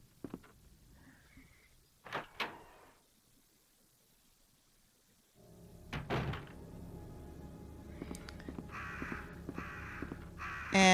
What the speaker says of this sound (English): here, I guess the crows, yeah, they're all sitting here